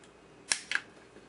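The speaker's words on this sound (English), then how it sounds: "The technique I like to use is cut these off so there's just, maybe 1/8 of an inch of lead left." Two quick snips of cutters clipping component leads off a circuit board, sharp crisp clicks a fraction of a second apart in a quiet room.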